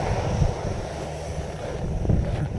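A steady roar from an Air National Guard C-130 aircraft engine dominates throughout, broadband and constant with gusty wind buffeting on the microphone, with a few low thumps.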